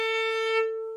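A single violin A string, deliberately detuned slightly sharp, sounds as one steady bowed note lasting about a second. The tone is clear and sustained with no other sounds.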